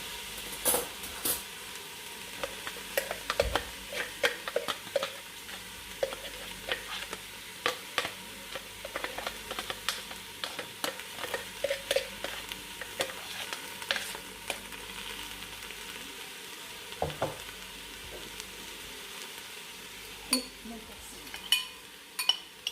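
Celery mixture and chickpeas sizzle gently as they fry in a pot, with repeated scraping stirs and occasional metallic clinks of a utensil against the pot over a steady frying hiss.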